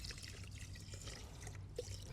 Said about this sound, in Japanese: 海水で米洗います